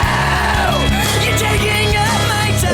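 A singer screams hoarsely and loudly over a thin, quieting stretch of a rock song, the raw yell sustained across the full passage above the instruments.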